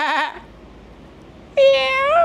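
A human voice imitates a goat bleating: one short wavering bleat, a pause, then a longer, louder quavering bleat, close and clear.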